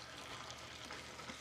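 Nuts toast in salted butter in a hot pan, giving a steady, close sizzle and crackle with faint stirring, and no voices.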